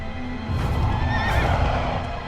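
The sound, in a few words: horse neighing in Shadow of the Colossus video game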